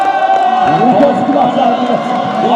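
Crowd at a 3x3 basketball league game roars and cheers loudly and continuously, with shouts and whoops rising over one another and voices mixed into the din.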